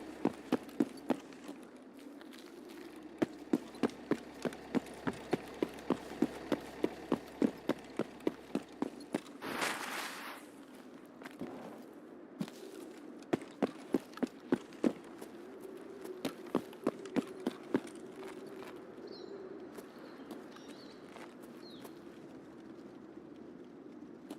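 Footsteps in a video game thud in a steady rhythm over a low rumbling fire. A burst of noise breaks in partway through, then a later stretch of faster steps fades out.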